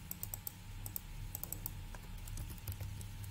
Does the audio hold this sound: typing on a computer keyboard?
yes